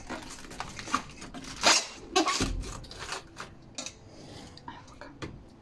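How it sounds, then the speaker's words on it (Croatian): Cabbage goes into a large cooking pot with a few clanking metal knocks and rustling, crunchy handling noises, coming in irregular bursts close by before settling into quieter shuffling. "kupus stavite u šerpu"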